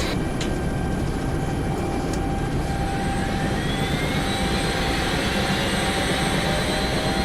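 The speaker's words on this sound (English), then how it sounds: "Getting that number 1 engine started." In the X-Plane 11 flight simulator, a helicopter's number 1 engine spools up with a steady turbine roar and a slowly rising whine over a dense low rumble, continuous and close, with no talk.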